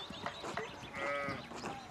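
Sheep in the medieval-set game Pentiment bleat several times in quick succession, wavering nasal calls at moderate volume over a soft background.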